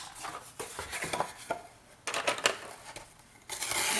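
Craft blade slicing through paper or cardboard scraps on a cutting mat while making a scrapbook folio, a series of short scraping strokes and taps in uneven bursts, close and fairly quiet with no talking.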